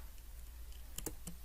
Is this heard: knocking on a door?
no